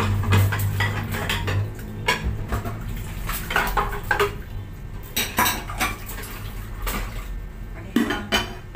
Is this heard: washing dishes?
yes